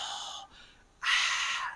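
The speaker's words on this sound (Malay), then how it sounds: "Nah, nafas saja mengalir tapi terdengar dia" Audible breaths, a strong breathy exhale, a short pause with fainter air, then a second loud rushing breath, close and isolated with no talk.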